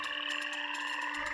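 Frogs croaking in a dense chorus, repeated rhythmic calls pulsing over a steady layered drone, fairly close and filling the whole stretch with no voices.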